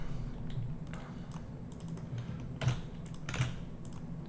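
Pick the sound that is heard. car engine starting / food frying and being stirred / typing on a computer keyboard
typing on a computer keyboard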